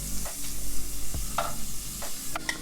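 Melted butter in a pan makes a soft, continuous sizzle, with a few light clinks and stirring scrapes scattered over it.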